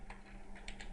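Several quick keystrokes on a computer keyboard while entering a Python loop at a command prompt, fairly faint and close, with a low steady hum underneath.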